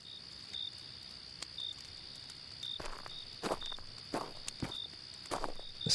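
Heavy, deep footsteps thud at an irregular pace in a horror video game, growing louder and more frequent over a faint, constant cricket-like chirp, with no talk.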